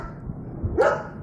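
A single dog bark rings out at close range, short and sharp, over a low background murmur.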